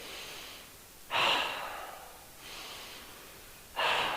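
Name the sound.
people breathing during an exercise class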